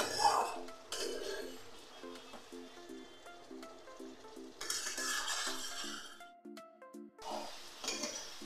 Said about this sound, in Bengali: আজকে আমি সয়াবিনটাকে মশলা দিয়ে মেখে করলাম।